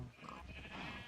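A sheep bleats in the Minecraft video game, a single wavering, nasal cry lasting about a second, up close and alone.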